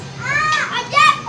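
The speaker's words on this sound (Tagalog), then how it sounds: "Ayan guys ang mga bata. Naglalaro sa baba. Ay ingay." Children playing noisily downstairs, their high-pitched voices chattering and calling out in quick overlapping bursts, close and fairly loud.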